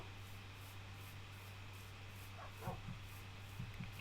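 Tamed dogs in the Minecraft video game give a few short, soft barks and yips late in the sequence over a steady low electronic hum, faint and somewhat distant.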